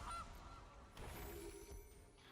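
In the digital card game MTG Arena, a Gilded Goose card resolves with a few goose honks layered over busy game sound effects, at moderate level.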